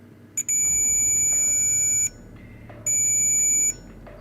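Shrill electronic beeping from a multimeter's low-battery warning, two long sustained tones separated by a brief gap, loud and close with no talking.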